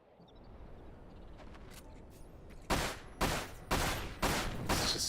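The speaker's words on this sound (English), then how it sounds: "Let's just start shooting shit." Gunfire rings out in the woodland shooter Dirge of Cerberus: Final Fantasy VII, four loud, evenly spaced blasts after a quieter ambient stretch with faint clicks.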